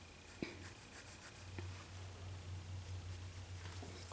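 A pen or pencil scratches a line across paper while sketching a portrait of Jack Palance as Shane. The strokes are faint and soft under low background hum, with a couple of light taps.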